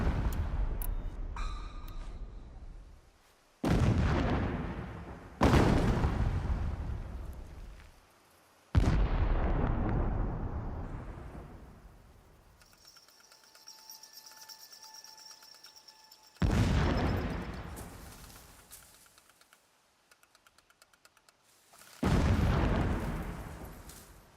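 Heavy gunfire and booming blasts in the game Horizon Zero Dawn Remastered on PS5, several loud separate bursts, each decaying slowly, with a quieter humming stretch between them.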